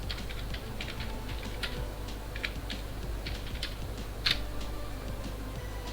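Steady clicking of a computer keyboard as a prompt is typed in, close and fairly quiet, with an even run of keystrokes and one sharper tap near the end.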